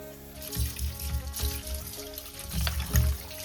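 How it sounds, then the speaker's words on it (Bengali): Fish being rinsed under a running kitchen tap, water trickling and splashing steadily close by, with a few louder splashes as the pieces are handled; no talking. "তো ওই যে আরো ভালো করে ধুয়ে নিচ্ছে"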